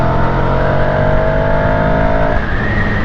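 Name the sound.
car accelerating hard at full throttle in third gear, sport mode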